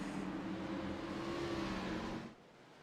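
Stock cars in iRacing roar together at a restart as the pace car pulls off, a steady dense engine drone with a rising whine that holds, then drops away abruptly near the end.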